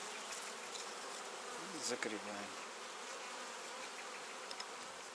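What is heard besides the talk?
honeybees buzzing at the apiary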